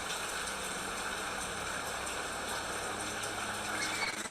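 Heavy rain pours down where lorikeets shelter in Queensland, a steady, close hiss of drops beating on surfaces that holds constant with no pauses.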